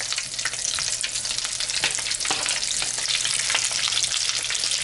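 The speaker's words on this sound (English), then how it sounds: "I'm just gonna take a little spoon here and we're gonna drop it right into the oil" Falafel balls fry in hot oil, dropped in by spoon a few at a time, giving a steady, close, dense crackling sizzle that holds evenly throughout with no voices.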